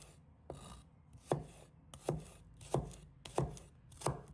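A knife chops shallots into small pieces on a board, steady rhythmic strikes about every two thirds of a second, close and crisp with no talking.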